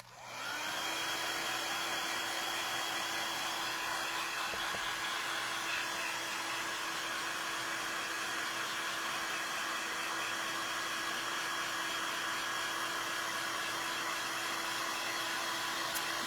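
A hair dryer runs steadily and loudly, drying a craft project at a crafting event, a constant whirring blow with a high whine that holds unbroken from start to finish.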